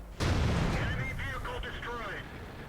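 Artillery fire in the World of Tanks video game lands with a sudden heavy boom that rolls off into a rumbling tail. Someone talks over the tail end of the blast.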